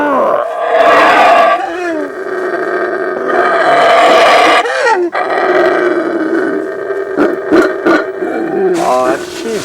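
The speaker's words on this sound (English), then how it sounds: "Baboon, by the way, is the name Belizeans give to black howler monkeys. You usually hear them before you see them." Black howler monkeys in Belize let out deep, rasping roars in long repeated bouts, loud and close, with short pauses between the calls.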